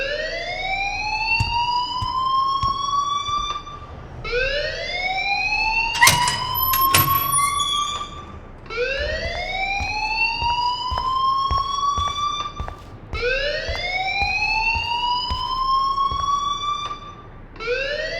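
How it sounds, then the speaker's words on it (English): A rising, wailing electronic alarm in the video game Life Is Strange sweeps upward over and over in long repeating cycles, loud and continuous, with a brief clatter partway through. "please turn off that alarm since that's your job."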